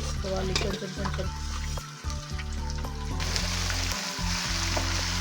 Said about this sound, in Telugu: అల్లం వెల్లుల్లి పేస్ట్ ఇలా ఆయిల్లో వేసినప్పుడే చాలా పొగుస్తుంది